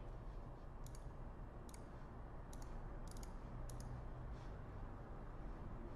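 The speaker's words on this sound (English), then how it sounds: "So I'm going to click the upload image button" Several light computer clicks come in small clusters over a steady low hum, quiet and close, with no speech.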